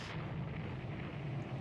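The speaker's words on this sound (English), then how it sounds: "They're firing heavy guns." Heavy naval guns fire in a Rule the Waves II sea battle, a loud, continuous booming rumble with no separate shots standing out, filling the whole stretch.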